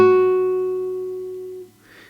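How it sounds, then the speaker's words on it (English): One clean guitar pitch played on the first string at the second fret, struck once and left to ring and fade smoothly for over a second and a half, then cut off, with no voices. "and then play the pitch on the first string on fret number 2,"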